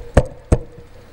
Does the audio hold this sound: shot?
no